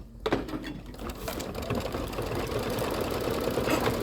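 An embroidery sewing machine stitches out a letter R with a steady, fast mechanical chatter that holds evenly from start to finish and has no talk over it.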